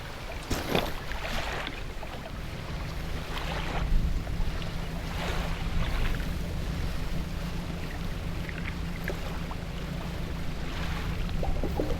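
A fishing boat in the video game Dredge motors steadily across open water, a constant low engine drone under washing waves and wind, with faint scattered splashes and no talking.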